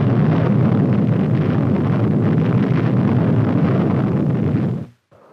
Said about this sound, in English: Then came atomic artillery.